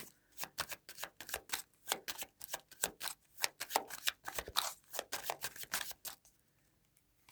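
Tarot deck shuffled in rapid bursts, dense crisp card slaps and riffles close to the listener for about six seconds before trailing off into quiet.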